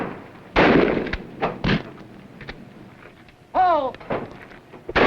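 Several sharp, heavy bursts of gunfire crack out at gunnery practice, irregularly spaced and loud, mixed with thumps and a brief shout.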